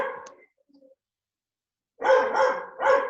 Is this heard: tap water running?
no